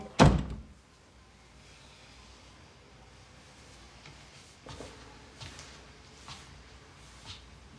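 A house door shuts with a single solid thunk as Jim heads out, followed by quiet room tone and a few faint later knocks.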